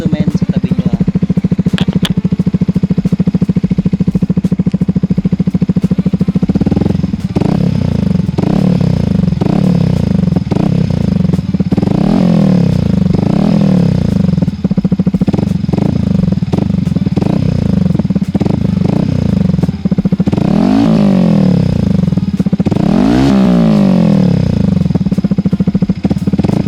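A Yamaha XSR155 fitted with an aftermarket Akrapovic-style exhaust runs close by, a steady low engine drone that swells into a series of rising and falling revs toward the end, with a voice talking over it.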